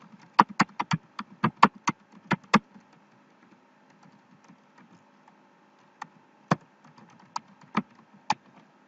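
An email address is typed on a computer keyboard: a quick burst of crisp keystrokes, a short pause, then a few scattered, separate key presses close by.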